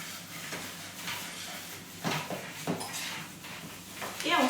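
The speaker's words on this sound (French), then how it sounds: "Je commence à mélanger" A utensil stirring a batter of flour, egg, salt, bacon and emmental in a bowl, with irregular clinks and scrapes against the bowl and a louder rattle near the end.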